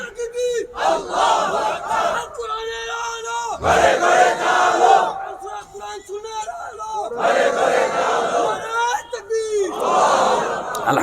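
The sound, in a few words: crowd shouting takbir response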